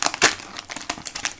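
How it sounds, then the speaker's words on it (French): Foil wrapper of a Pokémon booster pack crinkling and ripping open up close, with several sharp crackly tears and rustles in quick succession and no voices. "Bon, ils s'ouvrent normalement ces boosters, ils résistent pas trop."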